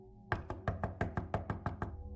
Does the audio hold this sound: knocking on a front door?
yes